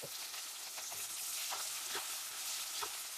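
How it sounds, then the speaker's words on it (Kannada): Chopped vegetables and beans fry in a pan of oil with mustard seeds, cumin and curry leaves, giving a steady close sizzle broken by soft scraping stirs, with no talk. "ಆಮೇಲೆ ಹುರುಳಿಕಾಳು ಇದೆಲ್ಲ ಹಾಕಿ ಚೆನ್ನಾಗಿ ಸ್ವಲ್ಪ ಫ್ರೈ ಮಾಡ್ಕೊಳ್ಳೋಣ"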